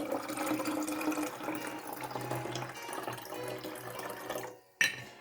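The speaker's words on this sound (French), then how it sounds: "Je vais commencer donc par mettre en premier l'eau, donc il en faut 60 centilitres." Water poured steadily into a container on a kitchen scale for homemade fabric softener, a continuous splashing fill that trails off, followed by a single sharp knock as the pour ends.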